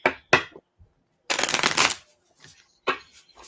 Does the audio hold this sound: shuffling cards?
yes